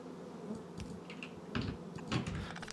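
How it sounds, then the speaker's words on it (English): Bees buzz around a hive in the video game Factorio, faint scattered buzzing and clicking over a quiet hum, rising in short louder bursts near the end. "The bees are buzzing."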